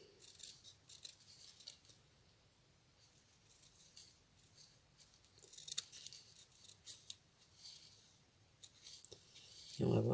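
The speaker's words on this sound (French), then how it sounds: "on va déjà découper nos petits cadeaux pour qu'ils soient vraiment pile poil" Scissors snip quietly through paper while small gifts are cut out, faint irregular crisp clicks and rustles close by, ending with a louder handling noise.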